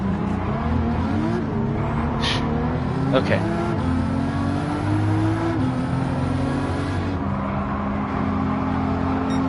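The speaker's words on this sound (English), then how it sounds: "Jeff Fryer already on the move with his nimble Lamborghini." A Lamborghini race car engine roars steadily in Gran Turismo 7, a loud sustained drone with shifting pitch as it revs and pulls away, while someone talks over it briefly.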